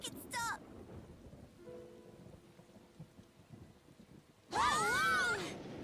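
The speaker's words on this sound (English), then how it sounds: "This thunder's pretty intense, huh?" Thunder rolls through a storm scene in the video game Tales of Xillia 2, a low rumbling swell under rain, with a sharp loud crack and crash near the end.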